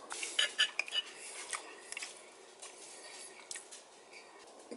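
A fork scraping and clinking against a plate while pulling apart a tender pork chop roasted in red sauce, with soft close taps and scrapes scattered through a quiet room.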